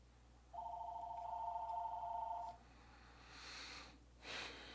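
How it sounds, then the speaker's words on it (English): A phone rings nearby in one steady electronic trill lasting about two seconds, followed by faint breathy rustles in an otherwise quiet room. "And I forgot to turn my phone off."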